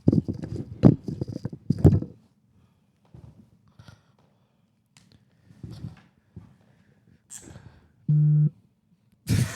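Phone vibrating on a surface, a single short buzzing burst standing out in an awkward quiet stretch after some chatter, with another brief noise just after.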